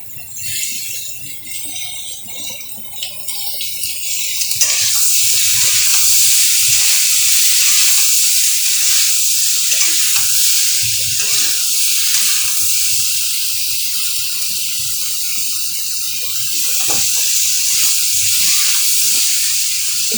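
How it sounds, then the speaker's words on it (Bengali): Chopped tomatoes dropped into frying potato curry (aloo dum), a steady loud hissing sizzle that swells after a few seconds and holds, with faint stirring scrapes beneath. "এই কেটে রাখা টমেটোগুলো এবার দিয়ে দেবো।"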